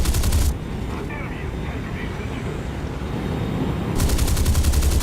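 In War Thunder, arcade jet combat with an American F-80, machine guns fire in rapid loud bursts at the start and end, with a steady roar of jet engine and wind between them and no talk.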